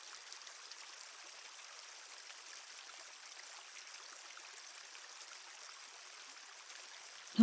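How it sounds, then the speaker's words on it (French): A flowing stream of water under a starry night sky, a soft steady trickle and gurgle that continues evenly and stays faint and alone, with no talking. "L'eau scintille sous un ciel étoilé"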